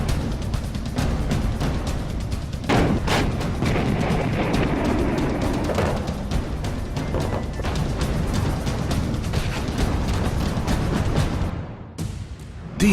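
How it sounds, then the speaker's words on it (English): Indian Army artillery fires long-range guns and rockets in a rolling barrage of booms and sharp blasts, loud and dense throughout, ending with a few abrupt cracks, with no voices. "Combat support arm of artillery delivers the power through its long-range guns and rockets"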